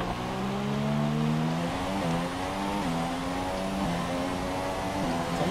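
Ferrari race cars in the F1 2017 video game, racing in China, hold a continuous high engine whine that rises in pitch through the gears, loud and steady with no talking.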